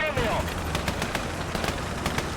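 Rapid gunfire crackles through a World War battle video game counter-attack with anti-tank guns, sharp repeated shots spread irregularly over a dense rumbling background, with a voice briefly audible at the start.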